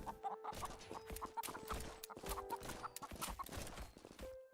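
Comic chicken clucks and squawks fired from a chicken gun weapon in an indie Godot-built game, a busy run of rapid repeated bursts with overlapping clip-clop-like hits, loud and dense throughout with no talk.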